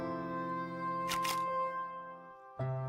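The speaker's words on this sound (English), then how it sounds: "I stare at it till the shutter clicks and the view goes dark." Camera shutter click in a visual novel game, a quick double snap over a steady humming music bed, followed by a softer thump as the scene darkens.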